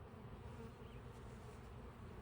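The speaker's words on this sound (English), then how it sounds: "There's another bee coming out." A continuous low buzzing hum of honeybees at an open hive, steady and fairly faint, with no talking.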